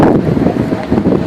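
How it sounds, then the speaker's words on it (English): Strong wind roars across a White Mountain summit, buffeting the microphone with a steady, loud, low rumble that swells and eases in gusts, with no voices. "You know the wind is bad when you gotta chain the building down."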